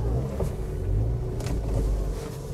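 Steady low rumble of a car driving and turning through a housing society in Park View City, Lahore, heard from inside with faint road noise and no talk.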